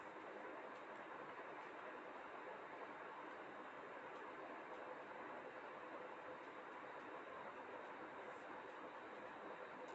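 A train at a railway station, a steady, dense rumble of passing railway wagons with faint clickety-clack, holding loud and even throughout with no talk.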